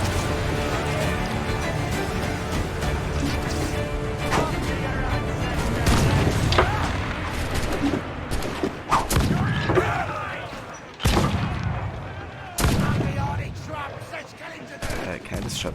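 Ship cannons fire in Assassin's Creed IV: Black Flag, a naval battle of heavy booming volleys and sharp blasts spread across the fight, loud and dense, with shouted voices mixed among the explosions.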